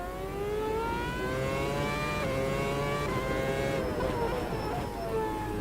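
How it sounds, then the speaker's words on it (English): A V8 race car engine in a racing sim screams through the gears at Bathurst, steady high-revving drone with rising pitch sweeps and a shift or two, continuous and loud with no pauses. "And we're in a V8 rather than the V6."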